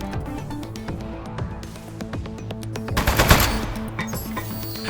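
Rapid bursts of gunfire from a desk-mounted gun in the video game Aperture Desk Job, loud and close, with crisp repeated shots building into a dense volley around the middle amid game sounds.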